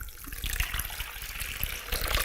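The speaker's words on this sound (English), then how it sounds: "I'm going to place some warm water" Warm water pours from a tap into a bowl, a continuous close splashing gush with bubbling and rushing, fairly quiet and uninterrupted, no voices over it.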